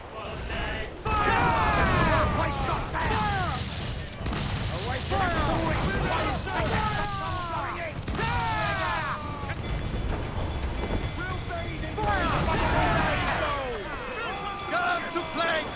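Cannon fire from a ship in Assassin's Creed IV: several heavy booms at spaced intervals, mixed under crew voices shouting and singing over a continuous game soundscape.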